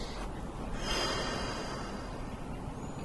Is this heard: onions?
no